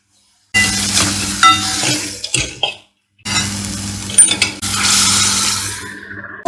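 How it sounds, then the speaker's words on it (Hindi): Spiced cauliflower with green chili, chili garlic paste, coriander and chili powder being stirred in a pan over a low flame, with a soft sizzle and scraping of the spoon in two stretches split by a brief pause. "तो बहुत हल्के आंच से चलाना है"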